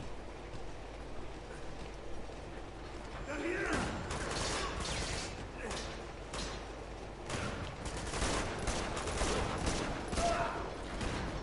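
Gunfire in Uncharted 2 from the Wes-44 pistol, with sharp shots cracking in irregular bursts over a constant rumbling backdrop like a moving train carriage, mid-distance and moderately loud.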